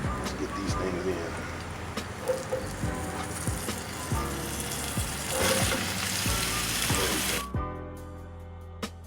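Fresh vegetables hit a hot pan for a stir fry, giving a loud, steady sizzle with scraping and stirring knocks throughout, easing off near the end.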